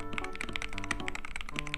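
Brisk typing on a cheap Hall Effect keyboard, a rapid run of close, light keystroke taps with no voice over it.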